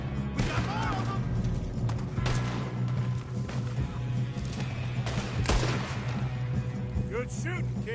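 Repeated gunshots ring out in a Red Dead Redemption 2 firefight, loud and close, cracking in irregular bursts over steady background music and ambience.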